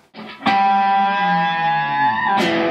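Two harmonics struck at the 5th fret on a Telecaster electric guitar and bent, giving a ringing, effects-laden tone that sustains with a slow pitch bend, with a second bright attack just before the end.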